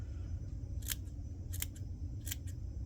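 Scissors snip through 2-inch patches of Rainey's Craft Fur, three crisp separate cuts spaced about a second apart, close up over a low steady background hum.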